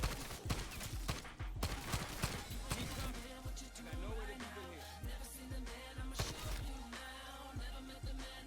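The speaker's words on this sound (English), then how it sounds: "Should probably actually use my gun" A player's gun in a video game fires rapid bursts of sharp shots, irregular clusters of cracks spread across several seconds over busy game sound, fairly loud and up close.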